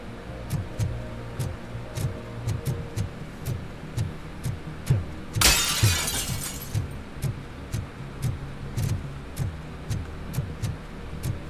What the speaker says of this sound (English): I just break glass by walking into it